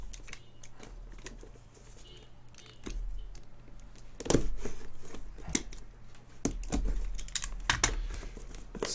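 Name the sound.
cutting open a cardboard box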